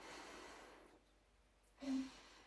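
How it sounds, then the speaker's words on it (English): A patient takes one deep breath during a physical exam, a soft, short inhalation near the end of an otherwise very quiet stretch. "A deep breath"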